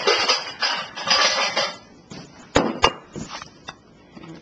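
A spoon scoops peach cobbler from a baking dish: soft, scraping scoops in the first seconds, then a few sharp clinks of metal against the dish, close and clear, with no talking.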